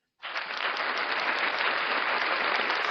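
Applause on a sports talk show, a sudden burst that rises at once to a steady, dense clapping texture and holds evenly to the end, sounding like a canned or dropped-in sound effect with a cut-off top end.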